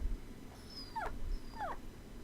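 Lucky, a dog in the video game Time Hollow, lets out two short, high whimpering yelps a half-second apart over a quiet background, with a faint thin whine trailing before each.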